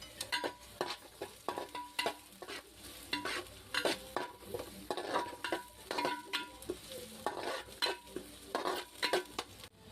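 Onions and curry leaves frying in a home kitchen pan, a steady sizzle broken by repeated scraping and clinking of a spoon stirring against the metal, close and fairly loud with no voices.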